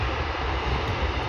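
Airliner taking off at Vancouver International Airport on a wet day, a steady broadband engine roar that fills the whole stretch without letup, loud and sustained with no talk over it.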